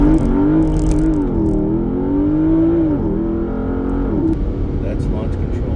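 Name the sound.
Porsche Panamera Turbo accelerating with launch control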